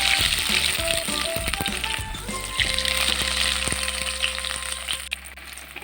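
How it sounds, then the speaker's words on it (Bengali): Vegetable chops slide one by one into hot white oil, setting off a bright, crackling sizzle close by with a few small clinks and pops that settles into steady frying. "এবার এক একটা করে ভেজিটেবল চপ আমি গরম তেলে ছেড়ে"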